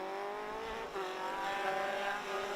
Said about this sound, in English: Giuseppe Fillet coming past us now in the number 64 car